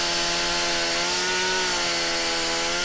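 A chainsaw runs in the survival video game 7 Days to Die, a steady, loud, buzzing engine drone that holds throughout with a slight shift in pitch near the middle, alone with no talk.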